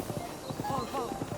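Horse hooves clopping on a bridge in Zelda: Breath of the Wild, a rapid steady run of hoofbeats close by while someone talks over them.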